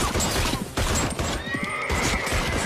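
A rural town's gunmen ride their horses through the streets as horses whinny loudly and repeatedly over a steady, dense clatter of hooves, close by, with no talk.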